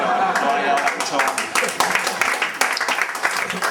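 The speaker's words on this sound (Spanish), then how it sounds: "que estos aplausos anónimos mola mogollón" Audience applause at a comedy monologue contest in a café, a dense crowd of hands clapping loudly and continuously, close and full, with voices mixed in.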